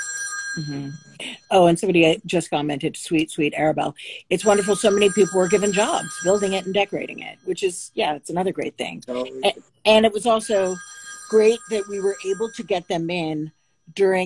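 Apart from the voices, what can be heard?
old analog wall-mounted landline telephone ringing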